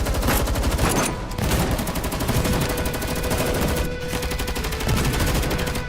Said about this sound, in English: Bullets and grenades attacked Iliad's front together